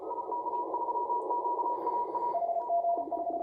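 Morse code sent fast, around 25-30 words per minute, on an amateur radio receiver: a clean tone keyed in quick dots and dashes that shifts slightly lower in pitch partway through, over faint static.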